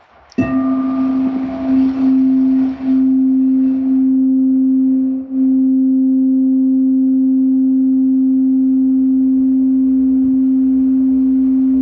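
An instrument sounds a sustained C note: a clear struck onset, then one pure, steady tone that rings on alone for over ten seconds with slight swells.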